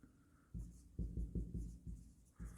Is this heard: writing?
yes